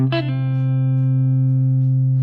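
A single sustained electric guitar note, 5th fret on the G string, rings out clean and steady after a quick pick attack, holding without decay.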